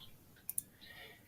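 Two quick, sharp computer mouse clicks sound close together in a quiet room, faint and crisp.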